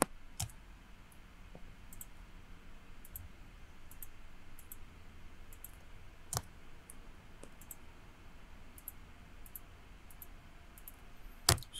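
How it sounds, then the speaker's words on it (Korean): Computer mouse clicking while working in Maya, sparse sharp clicks at irregular intervals, close but faint, over a quiet room hiss. "자, 또 클릭 클릭 클릭 클릭 클릭 클릭"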